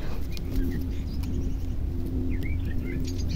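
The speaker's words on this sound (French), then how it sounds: "Ah, qui oiseaux qui chantent, c'est mignon." Small birds chirp and twitter in short, scattered calls high above a steady low rumble, with a faint cooing tone in the background; the calls stay modest in level throughout.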